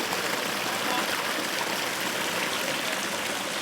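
Water pours steadily through a homemade dam fitted with a water wheel beside a tiny house, a dense, even rush and trickle that fills the whole stretch without pause.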